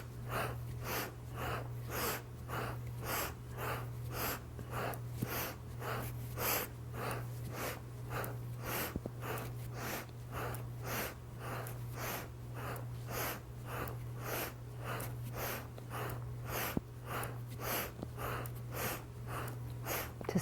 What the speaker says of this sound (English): Inhale, exhale